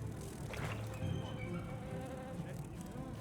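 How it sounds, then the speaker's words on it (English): A giant bee in the video game Monster Hunter Wilds drones with a continuous buzzing hum, steady and fairly close, layered with ambient game sounds throughout. "It's a giant freaking bee."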